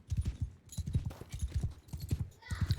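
Horse hooves beat a steady, fast galloping clip-clop in the medieval battle game Mount & Blade 2: Bannerlord, loud and close, with faint clatter and battle noise in the background.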